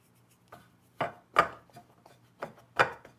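A knife cuts food in half on a cutting board in a home kitchen, giving several soft, dull chopping thuds at an uneven pace, close by and quiet.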